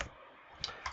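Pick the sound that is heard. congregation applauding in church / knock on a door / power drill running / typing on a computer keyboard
typing on a computer keyboard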